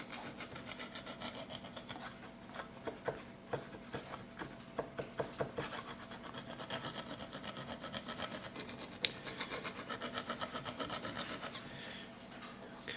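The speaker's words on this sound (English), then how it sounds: "kind of scrape it off" Small scraper rasping dried paint chips off a Rust-Oleum countertop coating in a steady run of short, close, repeated scratchy strokes, with no talking.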